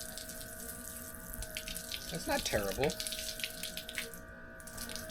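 Water sprays steadily from a Dr. Prepare portable solar shower bag holding 4 gallons, a continuous close hiss and patter, while someone speaks briefly over it.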